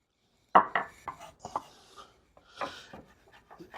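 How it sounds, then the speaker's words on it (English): About a quarter cup of parsley being chopped finely with a knife on a cutting board, a series of close, irregular thuds and scraping strokes with short pauses between. "And we're literally just trying to chop it up fine"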